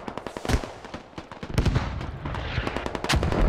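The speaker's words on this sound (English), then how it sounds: "we're gonna see mortars go non-stop" Mortar shells exploding nonstop during a Squad tournament match, a dense barrage of sharp booming blasts, some close and heavy, others distant, overlapping continuously with no talk.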